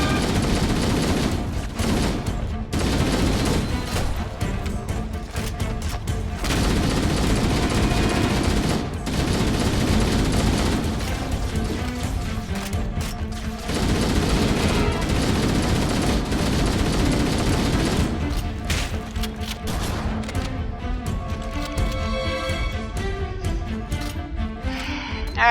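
Dense, near-continuous gunfire from the shotgun in Halo: Combat Evolved, with loud repeated blasts layered over busy game sound and music throughout.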